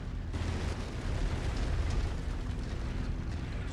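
Missile explosions boom in a mech combat video game, one heavy continuous roaring blast rumble after a brief quiet onset, loud and sustained with no speech over it.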